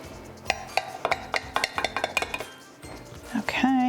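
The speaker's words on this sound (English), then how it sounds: "So a serrated knife works perfectly for this. Just slice them right down the center." Serrated knife sawing through a connected sheet of slider rolls for chicken bacon ranch sliders, giving a quick rhythmic run of crisp scraping strokes that ends in a brief clatter and a clink.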